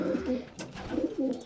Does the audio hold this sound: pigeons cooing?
yes